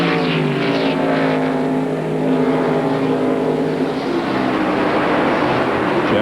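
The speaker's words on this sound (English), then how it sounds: "Here's Gordon now going by Wally Dallenbach." A NASCAR Winston Cup race car at Watkins Glen in 1997, its engine roaring loud and steady as it passes close by, with a rising and shifting harmonic drone and no voices.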